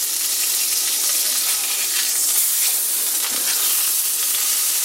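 Burger patty and bacon frying in a cast iron pan, a dense steady sizzle with crackling spits, close and loud, continuous with no voices.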